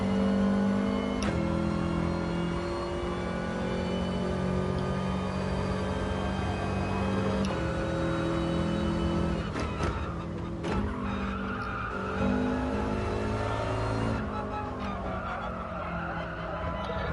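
A Subaru race car in a racing video game drones steadily at high revs, with brief tire squeals and shifts in engine pitch every few seconds, close and continuous throughout.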